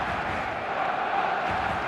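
Stadium crowd in an eFootball match, a steady dense roar of many voices swelling toward a crescendo, continuous and fairly loud throughout with no distinct chants standing out.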